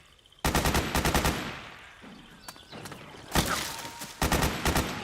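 Rapid automatic gunfire bursts in Metal Gear Solid 4 on PS3, loud close volleys starting and stopping in several rattling sprays with a quieter gap in between, along with thuds and scattered footsteps.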